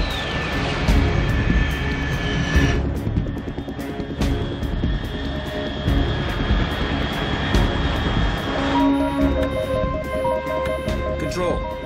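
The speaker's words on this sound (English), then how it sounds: "Unidentified aircraft detected." A jet aircraft drones overhead in a video game, a sustained loud engine roar and hum with shifting tones across the whole stretch, steady and close.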